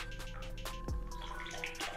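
Water runs steadily from a homemade pump that works without an engine or electricity, a continuous close trickle and splash with one brief louder gurgle partway through.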